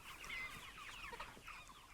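Broiler chickens in a pasture pen clucking and chattering, several birds making quick, overlapping calls close by at a low volume, with no talking.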